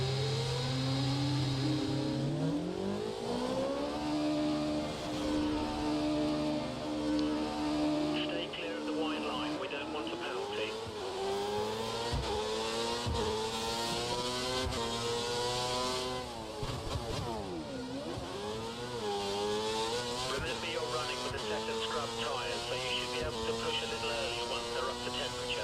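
An F1 car engine in the racing game F1 2013 revs and whines continuously, its pitch repeatedly rising through gears and dipping on braking, with someone talking over the engine throughout.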